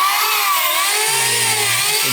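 A 2000 W electric wood planer with an 82 mm blade runs at 16000 rpm. It gives a loud, steady, high whine with shifting tones throughout and no pauses or voices.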